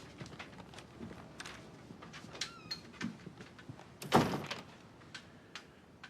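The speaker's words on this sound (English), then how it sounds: "Shut the door." An office door is pushed shut with a single solid thunk partway through, heard over quiet room tone with faint shuffling before and after.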